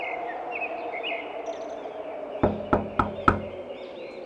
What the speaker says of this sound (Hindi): संगीता ने सुबह गांव के अमीर घरों के दरवाजे खटखटाने शुरू किए।